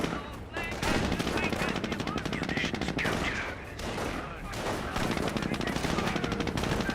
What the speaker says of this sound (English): Jeep here, firing away, getting some hits there on the Panzer Grenadiers